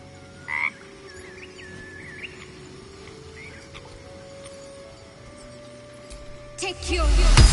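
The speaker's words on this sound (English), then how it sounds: "Frog's entire body shakes. It ribbits erratically as if in pain." A frog ribbits erratically in the Baldur's Gate 3 video game, a few short croaks and squeaky calls over a steady game hum, ending in a loud rising rumble.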